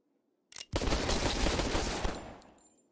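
Rapid bursts of gunfire from a Fortnite match crack in loudly after a short silence, a dense volley lasting about a second and a half before trailing off.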